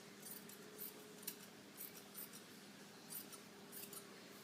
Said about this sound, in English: So I'm actually going to cut it straight across under the armpits.